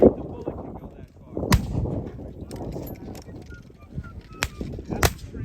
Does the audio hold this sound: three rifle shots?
yes